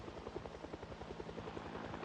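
A Project Zomboid helicopter event plays as a steady, faint rotor thrum with rapid rhythmic blade chop, continuous and distant-sounding, with no talk over it.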